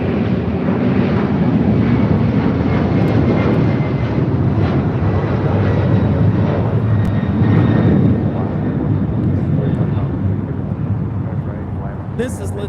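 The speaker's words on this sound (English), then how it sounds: "This is LATAM Airlines 2479 taking off to Lima, Peru on a 767-300ER." A LATAM Airlines Boeing 767-300ER bound for Lima, Peru roars down the runway on takeoff from LAX, a loud, steady jet rumble with wind buffeting, easing slightly near the end.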